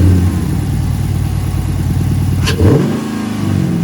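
A car fitted with a Corsa Apex 3D cold air intake, its engine running at a steady low rumble before a sharp rev sweeps up and settles back down, loud and close with no talking.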